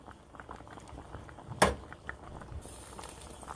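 Wild pheasant back mushrooms simmering in a covered pan give off a soft, steady bubbling and sizzling patter, with one brief clatter partway through.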